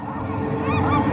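A bird in a nest squawks in a video game, giving loud, honking, goose-like calls over a dense, rumbling background.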